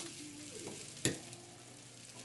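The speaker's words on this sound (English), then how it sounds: "hot pan, cold oil, and we get our mushrooms in" Mushrooms frying in oil in a hot cast iron pan, a soft continuous sizzle with a sharp scrape or stir near the middle and no talking.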